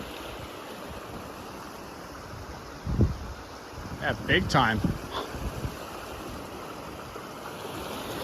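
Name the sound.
stream feeding Grant Brook, Jasper National Park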